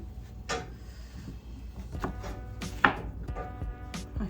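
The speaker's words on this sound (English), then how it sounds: "give me just 1 second to chop these" A knife chopping very large mushrooms on a cutting board in a home kitchen, a series of close, separate thuds and taps in an irregular rhythm, with one sharper knock partway through.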